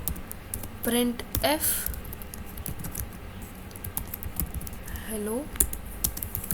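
A computer keyboard is used to type C code, giving light, scattered key taps under steady spoken narration.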